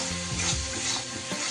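Soybean curry with onion, ginger, garlic and spices sizzles in hot oil while a spoon stirs and scrapes through it, close and busy with uneven scraping strokes over constant frying crackle.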